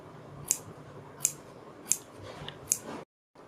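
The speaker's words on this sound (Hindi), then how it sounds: "इसके बाद हम बीच में से भी इसकी कटिंग कर लेते हैं और दोनों साइड गले में छोटे छोटे से कट लगाते हैं" Scissors snip four times in an even rhythm, each cut a sharp, close metallic click, while small cuts are made through cloth at the middle and both sides of a neckline.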